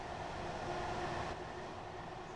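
Class 801 electric multiple unit running in Train Sim World 4, a steady rumbling roar of rolling stock with a constant mid-range drone that eases slightly partway through, continuous and fairly near with no talking.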